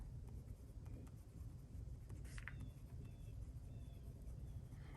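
A pen scratches across paper in an underhanded tripod grip, a soft, steady scraping of strokes over a low rumbling background hum, close and quiet.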